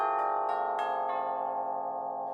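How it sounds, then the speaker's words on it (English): Sampled orchestral bells from the Sibelius 7 percussion set ring out in several struck notes, each with a bright attack and a long, rich sustain of overtones that blend into a clean, resonant decay. "All of the bell-like sounds are excellent in this regard, with a great attack, nice sustain, and realistic overtone series."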